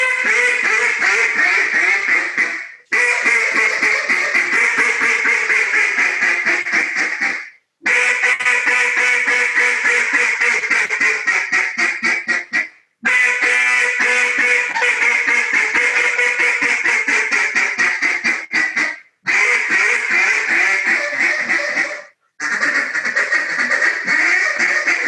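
A Live Duck duck call blown by a caller sounds loud, raspy quacking runs, fast and continuous, broken by several short pauses over about twenty-five seconds, close and alone.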